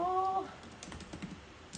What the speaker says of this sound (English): I'm gonna type this poll question really fast